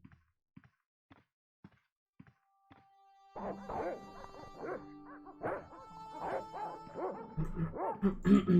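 Dogs barking in the video game Broken Sword: Shadow of the Templars, a few sharp isolated thuds first, then a burst of repeated yips and barks over a faint musical tone, getting busier and louder toward the end.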